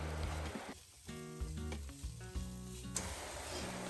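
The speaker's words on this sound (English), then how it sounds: "make sure you stir it so that you evenly coat your vegetables" Vegetables and flour being stirred in a hot frying pan, a close sizzle broken by scraping and knocks of the utensil against the pan, heard alone without talk.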